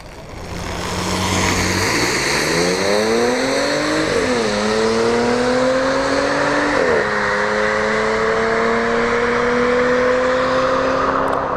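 An Audi S4 making a solo drag strip run, loud and close, the engine revving hard through rising tones with two sharp gear shifts and a sustained high pull to the end.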